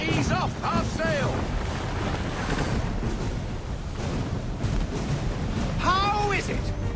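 A sailing ship pushed by wind in the video game Assassin's Creed, with steady wind and sea wash under the hull, creaking and gusts, and a few brief voiced calls on top.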